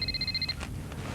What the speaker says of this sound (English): Oh, telephone.